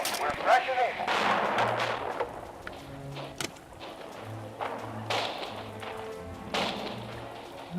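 Artillery fire in the Radio General strategy game, with repeated booming thuds and sharp gunfire cracks scattered across the scene, close and moderately loud, under a voice talking.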